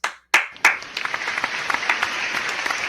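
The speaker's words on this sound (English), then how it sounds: "You hear that? A round of applause." A short applause effect starts with a few sharp, separate claps and quickly grows into a steady patter of many hands clapping together.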